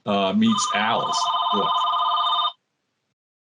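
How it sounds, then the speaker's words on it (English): An old-style telephone bell rings loudly and continuously for a couple of seconds, starting under a brief bit of talk, then cuts off abruptly into silence. "Pardon my phone ringing."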